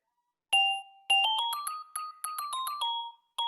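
Bright bell-like chimes playing a melody of ringing tones that accompany the vocals in a music piece, clear and close, with short pauses between phrases.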